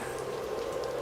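Steady rain pours down in a forest, a dense, even hiss of falling drops that continues without pause and without voices.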